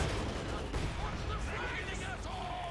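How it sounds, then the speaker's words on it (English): A Panzer IV tank fires in Company of Heroes 2 amid a battle din of gunfire, explosions and distant shots, with a commentator talking over the top throughout. "Panzer IV firing away"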